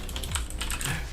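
Fingers type on a computer keyboard in a quick run of close, crisp key clicks with an uneven rhythm, heard alone with no talk.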